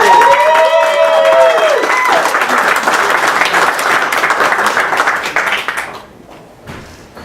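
Loud audience applause welcoming a performer onstage, steady dense clapping that swells early and then thins out and fades near the end, with a brief whistle-like tone at the start.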